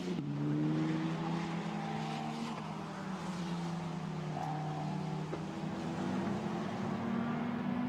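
Formula Renault race cars at Spa-Francorchamps, engines droning steadily and loud throughout, with rising and falling pitch as cars accelerate downhill, a continuous race-circuit roar with no talk.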